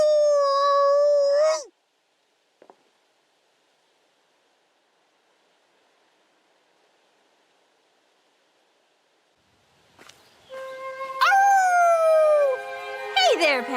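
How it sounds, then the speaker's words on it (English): A character's howl from the Fire Emblem Engage video game, a long wavering cry with harmonics at the start, then a brief click and silence before a louder rising and falling howl returns near the end, with no speech. "I wish you wouldn't do the whole howling thing"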